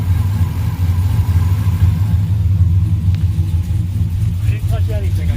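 Deep, steady rumble of a cammed Ram truck engine fitted with a Whipple supercharger, idling loud and close with a continuous low drone and no distinct whine.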